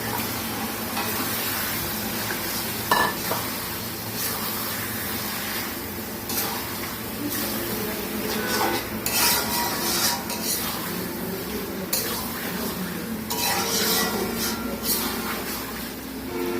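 Chicken pieces sizzle in a pan of cooked-down spice paste while a utensil stirs and scrapes them. The frying hiss stays steady throughout, broken by irregular clinks and scrapes.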